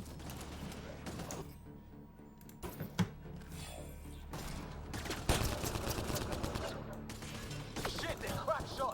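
Enemy gunfire in Mass Effect: Andromeda crackles in bursts and fusillades with impacts and clatter, close and dense in stretches and thinner in others, mixed with game noise and no talk.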